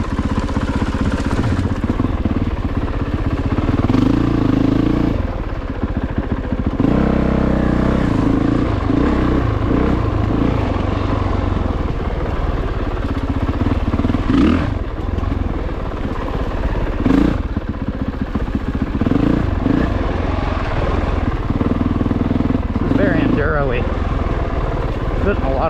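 A 2022 Honda CRF450RX dirt bike works through off-road trails at a big Indiana offroad park, its engine chugging and revving in uneven bursts with clattering, while the rider talks over it almost throughout.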